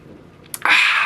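Beer splashes out onto a towel in a sudden steady gush after a couple of faint clinks, a close, continuous liquid hiss that runs on to the end.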